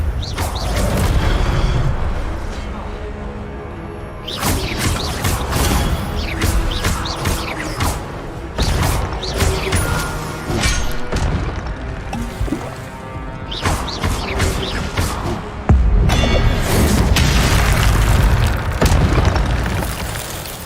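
Incendio fire spell blasts in the Hogwarts Legacy video game, heavy booming bursts and crackling whooshes layered over a dense game soundscape, loud and continuous with repeated surges across the clip.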